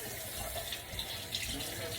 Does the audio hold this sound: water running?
yes